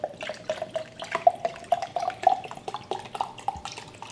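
Water running from a tap into a bottle of natural spring water, a steady trickling fill with small splashy drips, close and moderately loud, with no talking.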